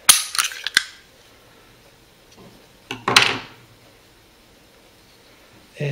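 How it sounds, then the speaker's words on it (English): A Kahr CW9 9mm pistol gives sharp metallic clicks and clacks from a trigger pull and slide being worked off the frame, in two close bursts separated by quiet handling. "you have to pull the trigger to get the slide off"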